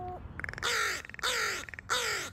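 A pet crow named Oscar gives three loud, harsh caws in a row, close by, each preceded by softer throaty clicks and rattles.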